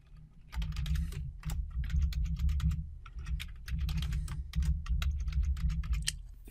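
Keys clatter on a computer keyboard in rapid, uneven bursts with brief pauses, close and fairly loud, as a username and password are entered during a database replication setup; no one talks.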